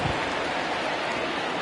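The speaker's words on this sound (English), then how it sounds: "the rain starting to intensify here" Heavy rain pours in a baseball video game. A steady, dense hiss runs evenly throughout with no breaks and no voices.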